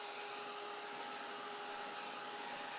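A handheld dryer blows steadily and close by over painted textured grapes, drying the fresh paint in a continuous, even whoosh with a faint tonal hum and no pauses.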